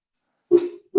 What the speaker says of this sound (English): he's barking at something out the window